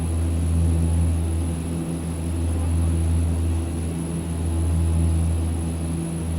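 A Saab 340A twin-turboprop airliner drones steadily in flight in X-Plane 11, a loud, constant propeller hum with a deep throb that swells slightly, heard from the cockpit with no talking.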